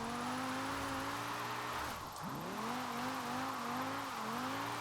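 BMW M5 drifting through snow in Forza Horizon 4, its engine droning steadily with rising and falling revs and a sharp dip in pitch around the middle, sliding tires beneath, with no voices.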